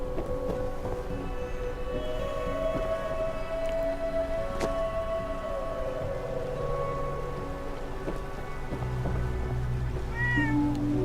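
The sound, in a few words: cats meowing in video game Fallout 4 Far Harbor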